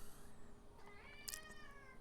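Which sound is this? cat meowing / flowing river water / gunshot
cat meowing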